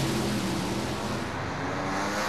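Drag race cars at the Indy US Nationals in 2007 launch off the starting line, one of them a blown car, producing a dense, loud, continuous engine roar with no voices.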